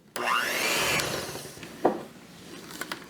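An electric mixer whirs briefly in a bowl of keto protein cookie dough, its motor pitch rising for about a second before it cuts off, followed by a few light clinks.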